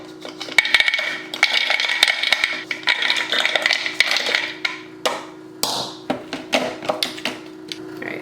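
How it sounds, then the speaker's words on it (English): Hard macadamia nuts clatter and rattle into a food processor bowl, a run of loud close clicks and taps, busy at first, then thinning into separate knocks over a steady hum. "All right, so we'll just add the macadamia nuts in."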